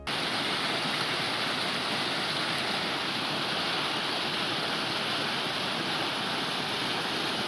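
Mountain streams at the source of the Dordogne on the north flank of the Puy de Sancy, a constant loud rushing of water close by, steady and unbroken with no voices.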